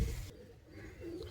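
A domestic pigeon gives a soft, low coo, brief and close, with a faint murmur of the surrounding loft underneath.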